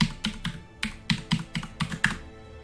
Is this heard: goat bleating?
no